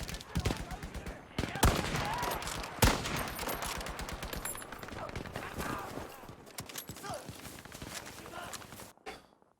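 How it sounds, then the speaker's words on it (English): Machine gun suppression fire rattles in a 32-versus-32 Breakthrough battle on Iwo Jima in a PS4 shooter, rapid bursts and sharp single shots running through the whole stretch, with voices talking over the fighting. "Some good suppression fire going down."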